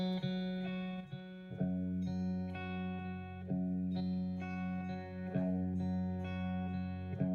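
An electric guitar with effects repeats a G note on the third string in steady plucks, ringing with some distortion and chorus, alone and clear.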